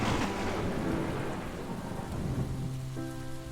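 Steady heavy rain with rumbling thunder in the video game Ministry of Truth, a continuous dense wash throughout with a soft low tonal hum creeping in near the end.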